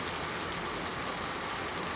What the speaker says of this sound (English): Torrents of heavy summer rain are coming down as people huddle for shelter